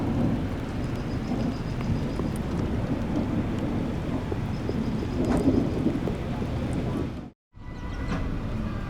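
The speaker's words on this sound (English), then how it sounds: "we have a couple storms that are rapidly intensifying just to our west" Thunder rumbles from storms rapidly building nearby in Fort Sumner, New Mexico, a steady loud low roar with rain-like hiss running throughout, broken by a brief dropout near the end.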